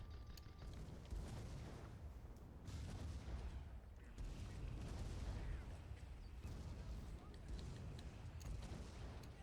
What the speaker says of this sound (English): Both sides are now just exchanging shots.